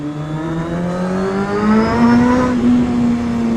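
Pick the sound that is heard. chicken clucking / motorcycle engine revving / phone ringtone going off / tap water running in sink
motorcycle engine revving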